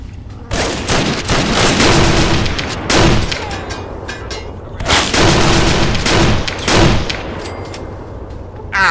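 A pump-action shotgun gunfight in the video game Fallout 3: loud, close bursts of repeated blasts in two clusters, with brief pauses and ringing echoes between them.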